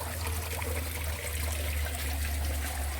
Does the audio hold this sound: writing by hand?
no